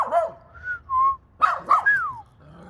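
A dog whines and whimpers in a string of high, whistling cries, some rising and falling, interrupted by short gaps. The sounds are close, with no talking.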